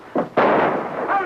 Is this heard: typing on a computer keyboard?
no